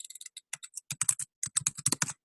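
Typing on a computer keyboard while writing a comment in Asana, quick clusters of crisp close key clicks in uneven bursts with short pauses, no voice.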